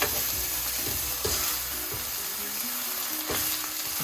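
Smash burger meat frying in butter on a hot surface, a loud, continuous sizzle with crackling spatters and occasional scrape or stir sounds, close up and without any talking.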